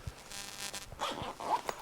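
Short zipper being pulled open along a pouch on a guitar gig bag, a close, scratchy rasp in two quick strokes lasting under two seconds.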